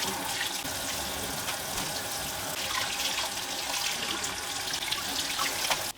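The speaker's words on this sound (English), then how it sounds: "So I'm going to rinse out his clothes and pop them in here too." Doll clothes from a crystal Barbie and Ken pair being rinsed under a running tap into a sink, a steady close rush of water with small splashes throughout, no talking.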